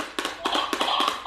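A child taps on a toy gift, giving a quick run of light, close taps in small irregular clusters, fairly loud with no speech.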